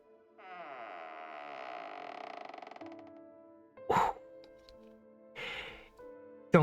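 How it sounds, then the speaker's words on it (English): A closet door creaks with a long drawn-out groan as it swings shut, followed by a few sharp knocks and clunks of the latch and frame. "As you close the closet door"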